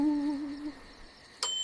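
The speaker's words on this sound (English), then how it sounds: "O is for owl." An owl gives a short hoot, a clear tonal call that trails off, followed by a brief bright chirp near the end.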